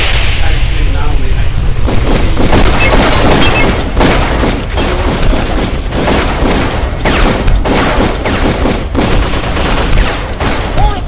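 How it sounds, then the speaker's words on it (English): Rapid automatic turret fire in the Darkest of Days video game at Pompeii in 79 AD, loud sustained bursts of gunfire with booming impacts running through the whole stretch, and a voice shouting over the shooting. "Those auto turrets will tear you to pieces!"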